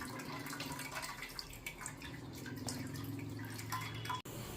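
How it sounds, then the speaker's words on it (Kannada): Homemade hair oil dripping through a cloth filter into a pot: a steady patter of small drips over a low continuous hum, fairly faint and close, with one sharp click near the end. "ಚೆನ್ನಾಗಿ ಫಿಲ್ಟರ್ ಮಾಡ್ಕೊಳ್ತಾ ಇದ್ದೀನಿ ಬಟ್ಟೆಯಿಂದ."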